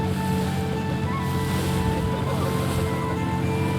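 Sea waves slosh against a small engine-powered boat under a steady motor drone and gusty wind noise, loud and continuous throughout.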